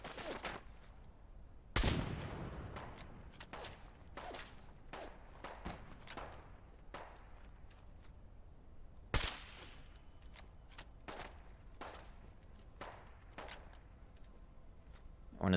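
An automated turret firing in Fallout London: a string of sharp, separate shots at irregular intervals, with a couple of louder close blasts standing out against a quiet background.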